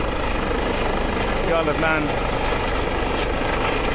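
A rescue helicopter hovers low near an RNLI lifeboat on a grey, swelling sea, its rotor a loud continuous throb under a voice speaking over it.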